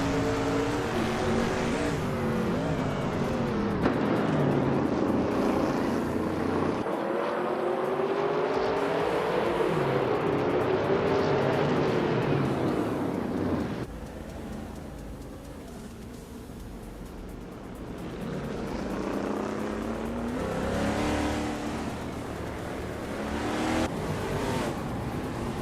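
Race cars roar around a track, among them a 1972 Ford Torino running in the pack; loud, continuous engine drone with rising and falling pitch as cars accelerate and pass, dipping somewhat quieter midway before swelling again.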